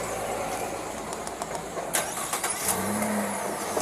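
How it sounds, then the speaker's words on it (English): A car engine starting up and beginning to move, a short mid-pitched crank and rev heard close by at a roadside parking stop, with brief clatter around it and no talk. "I'm moving my car"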